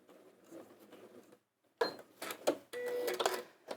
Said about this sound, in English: stop, do a lock stitch or reverse if you don't have the lock stitch